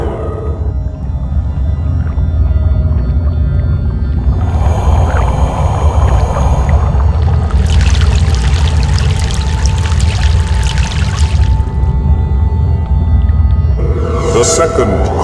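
A continuous loud, low rumble of a boat crossing a river in the game Broken Sword: The Sleeping Dragon, with bursts of rushing, splashing water rising over it midway and a brief watery flourish at the close.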